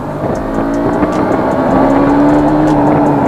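A 2020 BS6 KTM Duke 200 motorcycle engine drones loud and close while downshifting, its pitch shifting and settling into a steady hum as the ride goes on, with no talk.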